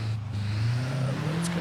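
Stock car engine in Forza Horizon 5 droning steadily on a hillclimb course, a smooth sustained hum whose pitch climbs slightly as it revs, heard from close and alone.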